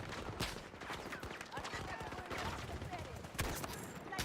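Rapid hip-fire gunfire in a Battlefield game, loud automatic bursts mixed with distant shots and explosions in a busy firefight, with a voice talking over the action.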